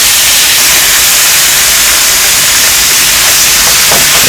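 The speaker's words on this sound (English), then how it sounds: "I got about a tablespoon of hot oil in here. I already put a little salt on the pork. I'll drop this in, get it brown." Salted pork hitting about a tablespoon of hot oil in a pan, a loud steady frying sizzle with a broad hiss that holds throughout, crackling spatters picking up near the end.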